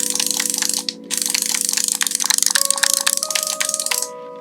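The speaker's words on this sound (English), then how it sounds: "It actually sounds like the fishing rod sound you would make, and it just attaches onto the D-pad button, so it just hits the button as it goes around" A fishing-reel accessory on a left Nintendo Switch Joy-Con, its wheel striking the D-pad button as it turns, makes a rapid run of sharp plastic clicks like a ratcheting fishing reel, close and fairly loud, briefly pausing near the start.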